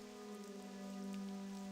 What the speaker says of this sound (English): As you can see, it rains right now.